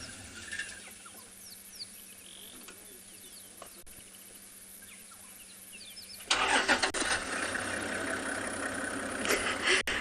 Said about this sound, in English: Have another vehicle coming into sighting.